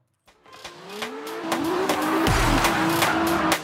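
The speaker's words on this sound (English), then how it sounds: "CarX Drift Racing 3 takes drifting to next level" A car drifting in CarX Drift Racing 3, with a revving engine and a long, loud tire squeal that rises and slides in pitch, close up and continuous over several seconds.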